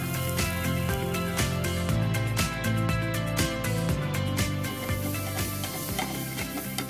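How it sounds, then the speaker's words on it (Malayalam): Crushed chammanthi frying with browned onions in a pan, a steady sizzle with rhythmic scraping and stirring strokes of a spoon against the pan, close and moderately loud, with no talking. "ഉള്ളി ഒന്ന് നന്നായിട്ട് ചുമന്ന മൂത്ത് വരുന്ന സമയത്ത് നമ്മൾ തിരിങ്ങിയ ചമ്മന്തി ഇതിനകത്ത് ഇടുകയാണ്"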